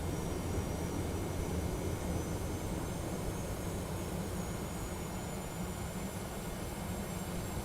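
A steady, even drone of Boeing 717 jet engines in a flight simulator cockpit, constant broadband roar with a faint high whine on top, moderately quiet and unchanging throughout.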